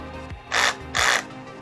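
Cordless drill with its clutch set around 5 or 6 slipping as it drives a screw while building a shed, two short loud ratcheting bursts close up after a brief motor whir.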